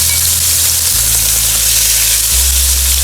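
Beef ribs sear in a hot pan with a loud, dense, continuous sizzle close up, backed by a steady low hum.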